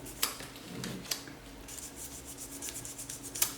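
Close, quiet hand sanding of a glass canopy with fine 1000-grit sandpaper: soft, raspy rubbing strokes in an uneven rhythm, with a few sharper scrapes and taps along the way.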